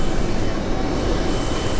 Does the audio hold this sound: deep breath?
no